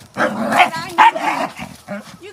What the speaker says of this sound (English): Yeah, Aiden, take your barking big ass in the house.